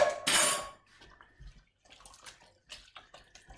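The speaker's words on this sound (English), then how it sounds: "cans, so I'm just going to rinse those out" Water splashes loudly at first as bean cans are rinsed out into a pan of vegan bean casserole, then fades to quieter clinks and small drips of metal tins and cookware.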